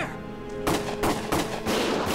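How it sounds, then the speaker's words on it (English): Gunfire in the Valkyria Chronicles video game, several loud bursts of shots cracking in quick succession over a steady in-game hum, with no talk. "Gunfire! Everyone keep your heads down!"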